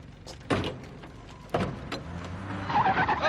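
Car doors are slammed shut on a vehicle in a 1985 film scene, two solid thumps about a second apart with engine rumble and some rustling around them.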